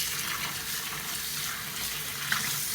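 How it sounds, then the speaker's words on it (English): Dried whiting fish is dipped and soaked in water, giving a soft, steady wash of sloshing, running water that stays fairly quiet and unbroken for a few seconds. "I'm just dipping it in the water."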